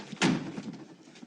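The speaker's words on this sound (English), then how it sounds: "And close the door." A door closes with a single firm thud, close and fairly loud, followed by a short fading rattle in a quiet room.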